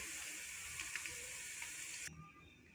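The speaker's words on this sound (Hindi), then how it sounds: "और ये हमारी फ्राई हो चुकी हैं सारी भिंडियाँ, अब हम लोग इन्हें निकाल रहे हैं।" Okra fried in hot oil sizzles steadily as the pieces are lifted out, a faint, even crackling hiss that drops away sharply near the end.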